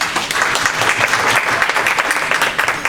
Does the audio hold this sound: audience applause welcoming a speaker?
yes